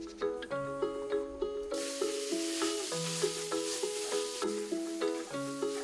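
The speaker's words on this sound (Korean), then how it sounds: "우선 뜨겁게 달구어진 가마솥에 소고기를 볶습니다" Beef stir-frying in a heated cast-iron cauldron gives a steady broad sizzle under louder, regular background music, with no talking.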